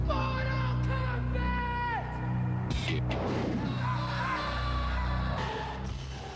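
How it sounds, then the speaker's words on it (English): Kids in a city street yell and whoop together, loud rising and falling voices shouting over a steady low hum, crowd-like and close. "all these random kids yelling in the middle of a city street, Mortal Kombat"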